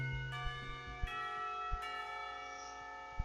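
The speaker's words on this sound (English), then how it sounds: "Not a minute too soon, the lunch bell rings." A school lunch bell in the visual novel Katawa Shoujo rings out in sustained, shimmering tones, with three or four distinct strikes over a steady ringing wash, fairly loud and with no voices.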